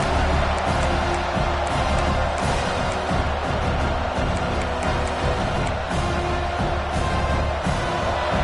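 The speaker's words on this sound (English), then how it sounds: "This crowd trying to make life miserable for this offense." Stadium crowd in a Penn State college football video game, a loud, dense roar of cheering that holds steady throughout with occasional whoops.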